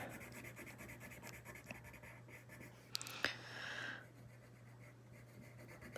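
Pencil drawing lines on paper, soft scratchy strokes with a brief louder rubbing passage midway, quiet and close over a faint steady hum.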